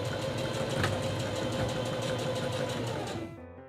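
A sewing machine back stitches a skirt seam, its motor whirring in a steady, fast, continuous run close by before cutting off abruptly near the end.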